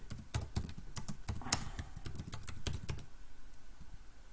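Close, quiet clicking of keys on a computer keyboard as a student's name is entered, in an uneven burst of taps that trails off into sparse strokes near the end.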